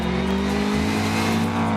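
A rally car revs hard in a driving game, the engine note loud, close and continuous, its pitch dipping briefly before climbing again.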